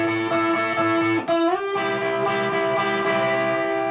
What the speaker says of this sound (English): We're going to take the 5th fret of the B string.